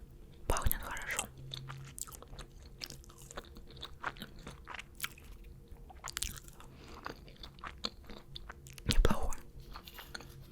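Close, crisp biting and chewing of McDonald's menu food dipped in Thousand Island sauce, with a few louder crunchy bites standing out against quieter mouth sounds and soft whispering.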